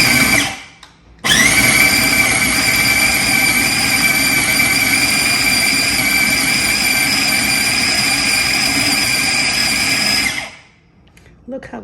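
Food processor pulsing haroset ingredients: a loud whirring motor starts abruptly, runs steadily for about nine seconds, then spins down to quiet.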